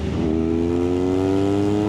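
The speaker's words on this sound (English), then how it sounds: "when you downshift just there, we'll look at that in a minute" Engine of a 2023 BMW R nineT Urban GS motorcycle, a loud close drone whose pitch sweeps down then holds steady as the rider downshifts.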